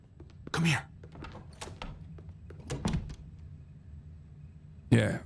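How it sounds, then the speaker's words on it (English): Two heavy thudding door bursts in a video game, one near the start and one near the end, with scattered knocks and game noise between them under people talking. "Yeah, he didn't hear the door."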